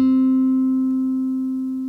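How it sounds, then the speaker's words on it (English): A single guitar G string is plucked once and left to ring alone, a steady clear tone fading slowly with no other notes or voices. "make the G string sound and the G string only"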